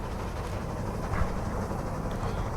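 Train rolling along in the game Dead Rails, a steady rumbling clatter of wagons over rails, loud and continuous for a couple of seconds with a faint bump midway, no voices.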